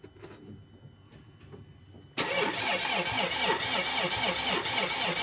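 A Ford Transit van engine cranks with quiet mechanical clatter, then abruptly catches into a loud, steady, rough running rumble that continues without a break, with no voices.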